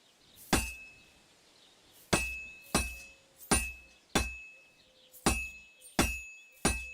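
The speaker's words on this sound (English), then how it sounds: "Now take the hammer and try hitting it a few times." A hammer strikes a sword on an anvil in the video game Kingdom Come Deliverance 2, eight sharp, bright metallic clinks at uneven intervals. Each hit rings briefly and stands alone over a low background hum.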